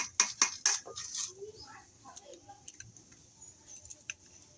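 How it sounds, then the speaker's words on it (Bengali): Sharp clicks and light taps of an egg being cracked into flour dough by hand, a few quick knocks near the start followed by softer scattered ticks, close and fairly quiet. "এবার আমি ফাটিয়ে একটা ডিম দিয়ে দেব।"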